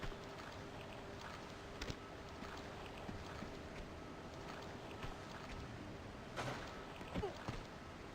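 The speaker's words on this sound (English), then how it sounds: "Okay, it's just water." Faint, steady watery ambience from Tomb Raider II (1997), low sloshing water with a few small splashes and light knocks rising briefly above the hiss.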